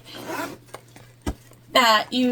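Zipper on the pocket of a sewn tote bag, pulled in a short rasping run, followed by a tap and then a voice that starts talking, all close to the microphone.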